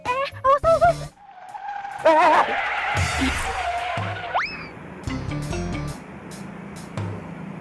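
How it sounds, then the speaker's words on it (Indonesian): A car sideswipes another car on the road and skids, with a sharp rising squeal of tires over engine noise, preceded by brief tonal sounds and followed by a settling rumble. "Wah, itu mobil bener-bener. Mobil saya diserempet."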